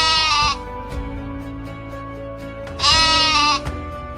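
Sheep bleat loudly as a sound effect in a church Christmas play, with two long wavering cries separated by a sustained musical backing.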